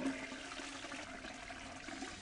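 A toilet flush in the point-and-click game Chaos on Deponia, a steady rushing gurgle of water draining at moderate loudness for about two seconds.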